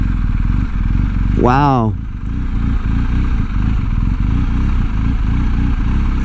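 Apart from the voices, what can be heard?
BMW R18 motorcycle engine at low speed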